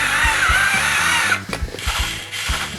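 A small robot arm built by an elementary school student for a robot contest opens, driven by a single motor: a close, steady whirring with an even train of ratcheting clicks, about four per second.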